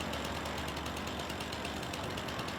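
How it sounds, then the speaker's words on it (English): A chainsaw runs continuously in Farming Simulator 25, giving a steady, moderately loud buzzing engine drone with a fine rattling texture throughout and no pauses. "All right, chainsaw acquired. And let's do some logging"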